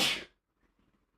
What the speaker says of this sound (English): sneezing